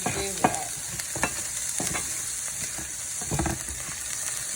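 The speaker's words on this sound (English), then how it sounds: "And stir that together." Pineapple chicken sizzles steadily in a hot pan while a utensil stirs it, scraping and clacking at irregular moments. The sound is close and clear, with no voices.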